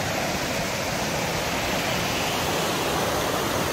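River water rushing steadily beside a hiking trail in Washington, a loud, continuous broadband wash with no breaks and no voices.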